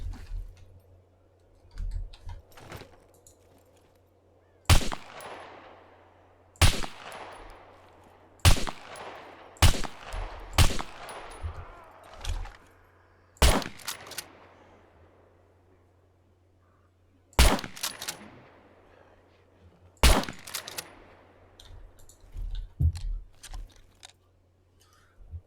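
Pistol shots in the survival video game SCUM ring out as about eight sharp, loud cracks, spaced irregularly with some smaller clicks between them, and no talk over them.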